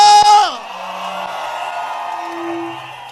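A crowd at a New Year's Eve church service gives a loud, drawn-out cry that drops in pitch, then carries on as a steady murmur of shouting voices.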